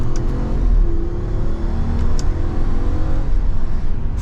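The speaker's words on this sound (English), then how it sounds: "All right, so we are setting off now in this Wagoneer. Let's go into sport mode." A 2023 Jeep Wagoneer L Carbide in sport mode accelerates with a steady, loud engine drone and road rumble that holds for several seconds, with no speech over it.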